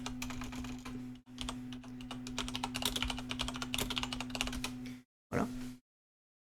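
Rapid clicking of keys on a computer keyboard while searching the internet, a steady run of close taps over a low electrical hum, then a short pause and a brief final burst.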